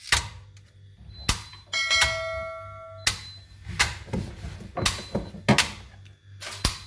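A contactor inside a three-phase electrical distribution board clicks with its cover removed, giving sharp, irregular snaps. Several close clicks come over seven seconds, with a brief electrical buzz in between and a low hum underneath.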